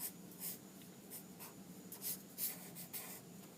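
A pencil or pen draws loose, chaotic lines on paper. The strokes make soft, rhythmic scratching and rubbing sounds, quiet and close, with no talking.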